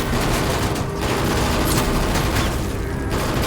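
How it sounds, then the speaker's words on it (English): A weapon fires a burst of gunfire during a fight, a dense, loud, continuous rattle of shots that fills the whole stretch without pause. "Mike picked up his weapon and fired a burst of shots."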